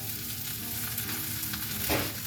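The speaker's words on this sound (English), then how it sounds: "some steakums here that I'm just going to add to my pan, and we're just going to cook this down" Steakums sizzle and fry in a pan, a constant close crackling hiss with a brief stir or scrape near the end and no voices.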